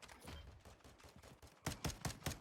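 Pistol gunfire in the video game Warzone 2: a scatter of soft, distant shots, then a close, loud string of four or five sharp reports in quick succession, with no one talking.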